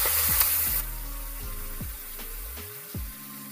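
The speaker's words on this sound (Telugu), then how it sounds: "ఇందులో వేసేస్తున్నాను తాలింపు." Hot tempering of dried red chilli and curry leaves poured into a Chettinad tomato chutney, heard as a close hiss and sizzle that fades and settles with a few bubbling pops, without talk.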